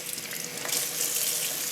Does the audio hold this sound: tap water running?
yes